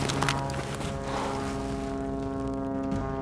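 An airplane droning overhead in the mountains, a loud steady propeller-like hum with strong engine tones that holds throughout and fades slightly toward the end, with no talk.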